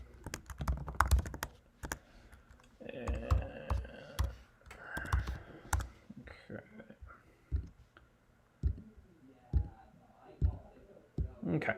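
Typing on a computer keyboard while entering client information into a health insurance enrollment form, with bursts of clicking keystrokes and pauses between runs, close up and fairly loud, with a few soft voice sounds mixed in.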